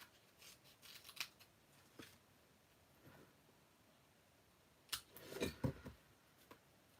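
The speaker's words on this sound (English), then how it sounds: "What I'll do is I'll cut a strip up the edge here" Scissors snip through a strip of acetate, a few quiet scattered cuts followed by a louder cluster of rustling snips up close, with no talk.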